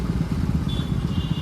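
Motorcycles ride along a road in a group during a wheelie ride, their engines giving a steady, fairly soft drone with faint clatter.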